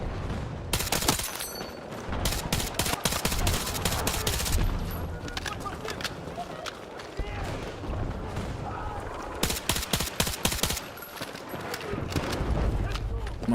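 Full-auto gunfire in the video game Battlefield 6, loud rapid bursts of shots in two main volleys with scattered fire between, heard under someone talking.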